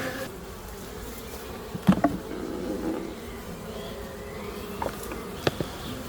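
Honey bees humming faintly and steadily while being transferred from one hive box to another, with a few sharp knocks and clicks of the wooden hive standing out over the drone.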